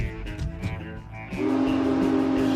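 Railway train rumbling steadily with rhythmic clatter, then a loud sustained horn or whistle blast comes in and holds to the end, close and prominent.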